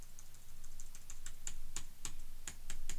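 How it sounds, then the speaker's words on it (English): Computer keyboard keys are pressed as Shift is held and the arrow keys are tapped repeatedly, a string of crisp, fairly close clicks at an uneven pace with no talking. "hold down Shift and then try your left and right arrow keys"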